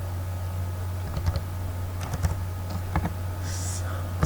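Keys tapped on a computer keyboard while entering a number into SketchUp Pro, a few irregular clusters of light clicks over a steady low electrical hum.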